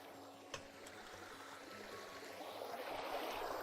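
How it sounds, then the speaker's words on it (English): A steady, soft rush of running water in the block-building survival game Vintage Story, faint and continuous, gradually swelling, with a couple of small clicks early on. "Ooh, running water."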